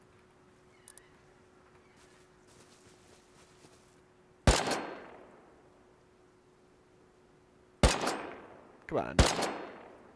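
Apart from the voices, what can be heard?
gunshots in the video game Rust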